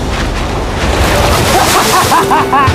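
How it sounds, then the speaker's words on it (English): Big ocean waves surge and crash around a small boat heading for a deserted island, a loud rushing wash with wind buffeting the microphone and water splashing close by. "Those waves look really big over there. And they're coming right at us."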